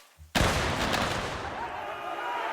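Musket volley fire in Mount & Blade Warband, an American Civil War battle: one sudden loud massed volley that rolls on with scattered crackling shots and a long fading echo.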